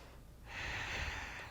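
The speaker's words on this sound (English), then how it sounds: "Take a breath here" A single audible inhale during a gentle evening yoga flow, rising suddenly and holding steady for about a second, close and soft.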